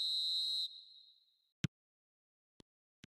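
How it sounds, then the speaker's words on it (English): A referee's whistle in the eFootball video game gives one long, loud, shrill blast that fades into a silent gap. Three short, sharp clicks follow, and no one speaks. "There's the whistle."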